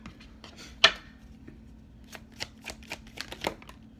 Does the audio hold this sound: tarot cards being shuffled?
yes